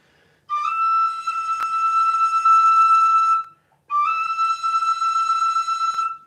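A tin whistle holds a bright, steady, feathered high E note, breaks briefly, then sustains it again, breathy and slightly wavering, played up close.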